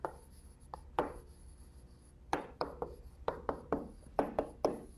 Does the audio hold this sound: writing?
yes